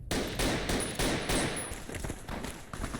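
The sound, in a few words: gunfire from enemies in the video game Fallout New Vegas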